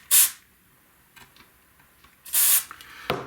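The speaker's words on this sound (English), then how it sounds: "spray a little contact cleaner down inside of here" Contact cleaner sprays onto the contacts of a 25-inch K7500 arcade monitor in two short, sharp hissing bursts close up, separated by faint clicks and handling noises.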